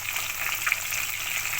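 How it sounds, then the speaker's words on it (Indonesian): Fish frying in hot oil gives a steady, close sizzle and crackle throughout, with no voices over it. "Nah, digoreng nih."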